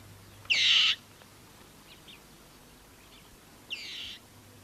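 Black eagle calling among rocky kopjes in Tanzania: two short, bright, high-pitched calls about three seconds apart, the first louder, over a quiet background hum.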